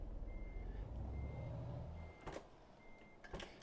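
A truck in Euro Truck Simulator 2 backs up while its reversing alarm sounds four thin, evenly spaced beeps over a low engine rumble, with a couple of short hisses near the end.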